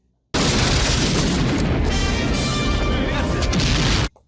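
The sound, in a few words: bomb explosion in the film Rambo III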